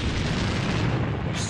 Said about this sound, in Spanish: Una explosión en supernova abrasaría la atmósfera.